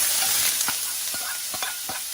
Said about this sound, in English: add our noodles that we cooked earlier into this oil that's remaining from our omelette that we made